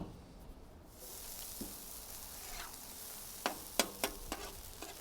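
Marinated pork bulgogi in gochujang, honey and tamari frying in a pan, giving a soft steady sizzle that begins after a second, with a few sharp crackles and spatters near the end.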